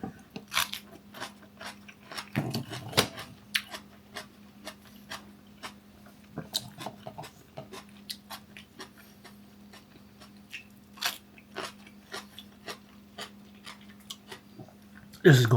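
Homemade kimchi is chewed during a taste test, giving close, irregular crunchy bites and wet chewing over a low steady hum, with a louder burst at the very end.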